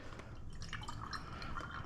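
Brewed coffee, about 40 grams of grounds with 400 ml of water, drains through a filter as scattered small drips and a faint trickle, quiet and close, with no talking.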